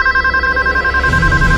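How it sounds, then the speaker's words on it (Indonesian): Extension telephone ringing in a room, a loud electronic trilling tone held continuously, close and alone with a low rumble rising underneath. "kami dikagetkan oleh suara telepon ekstensi di ruangan Dimas"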